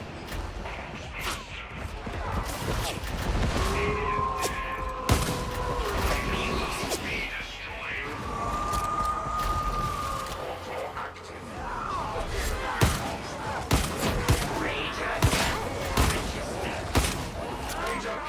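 Video game gunfire crackles in dense volleys with whip-like snaps and crashes, loud and near throughout, with a voice speaking over the action.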